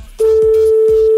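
A telephone call being placed for a radio wake-up call, a loud, steady single-pitched line tone that starts abruptly and holds, with faint background sounds beneath it.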